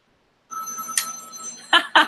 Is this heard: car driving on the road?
no